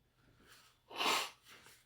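A single person's sneeze, one sharp loud burst building from quiet breathing and then fading, with a softer exhale after it, heard during a Korean Bible study talk.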